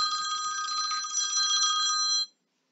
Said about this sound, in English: Sorry about that, phone's ringing.